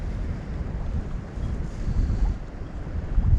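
Steady wind buffets the microphone on an open shoreline while fishing for squid, a continuous low rumble with gusts swelling louder toward the end, no voices.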